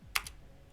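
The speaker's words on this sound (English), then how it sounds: "Typing and talking at the same time is harder than you think." A single short burst of computer keyboard keystrokes, one or two quick clicks, quiet and close, with low hum afterward.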